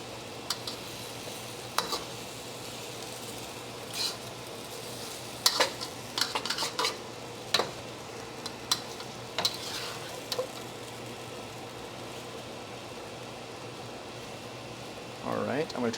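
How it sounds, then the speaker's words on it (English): Chicken being stir-fried in sauce with noodles for drunken noodles (pad kee mao), a steady low sizzle with scattered clinks and scrapes of a utensil in the pan, close and without talk. "Try to stir it up so we can get a little bit coated in sauce."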